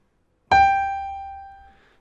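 A single piano G note struck once, ringing clearly and decaying slowly over about a second and a half, alone in silence.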